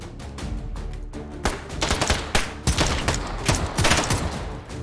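Sten submachine gun fired in the VR shooter H3VR, a near, loud run of rapid automatic bursts with short pauses between them and no talking.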